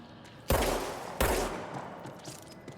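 Two sharp, loud gunshots in the video game Control, about three-quarters of a second apart, each with a punchy boom and a decaying tail into quieter background.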